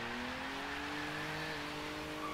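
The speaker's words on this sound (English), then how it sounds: "A lot of wheel spinning at the start there, like it can't lay down the power." A Jaguar Mk 2 3.8 in Forza 3 accelerates hard with its tyres spinning, a steady strained engine drone with faint squeal held at moderate loudness throughout.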